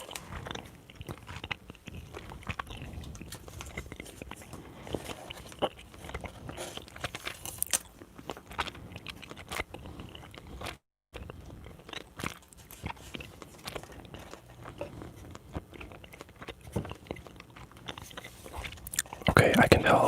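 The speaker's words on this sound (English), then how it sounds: "I'll do some closed mouth chewing." Soft closed-mouth chewing for ASMR, close and quiet, with small crunches and scrapes scattered irregularly and a brief silent gap midway.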